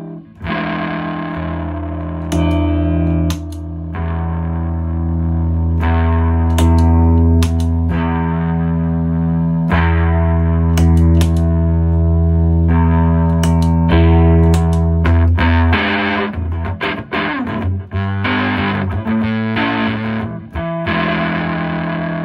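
Heavily fuzzed electric guitar from a Big Muff pedal into an amp plays loud sustained chords and bends, then breaks into choppier, stuttering strums and muted hits near the end, close and continuous with no voices.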